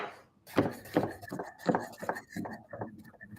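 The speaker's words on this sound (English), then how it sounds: "So I'm using a rocking motion right now. Okay. Keeping the tip of the knife on the board and rocking forward" A knife rocking through food on a cutting board, its tip kept on the board, giving a run of crisp, close chopping taps in an uneven rhythm, with no voice over them.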